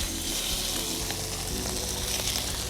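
Shrimp sizzle and crackle as they go into a hot, lightly smoking pan, a steady close frying hiss with faint stirring underneath and no talking.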